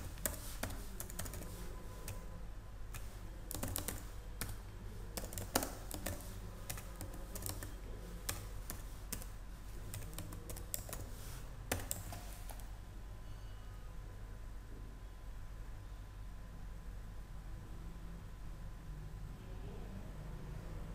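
A contact name typed out on a computer keyboard: rapid, uneven key clicks for about twelve seconds, close and quiet, then the tapping stops and only faint room hiss remains.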